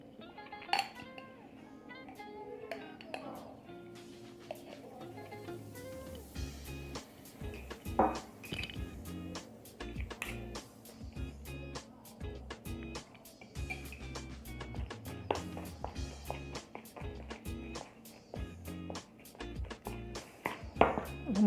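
A spoon stirs a thick mixture of sugar, cream and coconut oil in a bowl for cream biscuits, giving frequent metallic clinks and taps against the bowl in an irregular rhythm over about twenty seconds.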